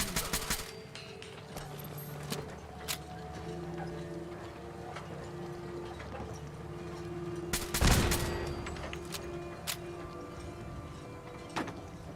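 Gunfire in Fallout 4, a run of sharp shots scattered through steady game ambience, with one loud close burst in the middle and fainter shots after.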